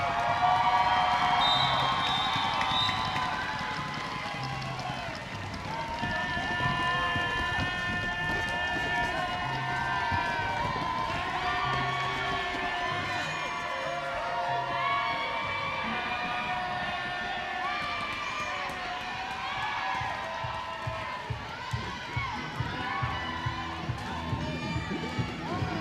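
A roller derby crowd cheers and yells for the winning team, a sustained wash of shouts and whoops that swells at the start. Scattered rhythmic claps or stomps build near the end, with an announcer's voice heard over the noise.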